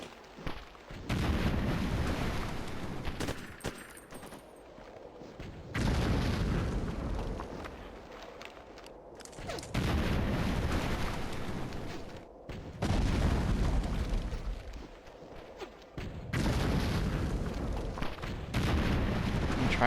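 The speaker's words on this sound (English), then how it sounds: "And now the tank is here." A tank fires in the Ghost Recon 2 video game on GameCube, with several heavy, booming blasts, each followed by a long rumbling decay, repeating every few seconds at high volume.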